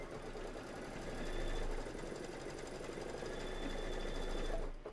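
A sewing machine stitching slowly on a Kimberbell Cup of Cheer project, a close, even mechanical chatter that rises slightly midway and stops abruptly at the end, with no talking.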